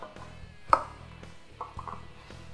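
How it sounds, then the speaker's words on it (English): Knife chopping lemongrass, leek and peppers finely on a board for chicken larb: a few soft, irregular cuts, with one sharp louder chop near the start and quieter taps later, close and alone without talk. "we're going to start chopping up the lemongrass"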